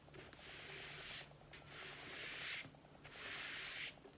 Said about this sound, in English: rubbing over that tape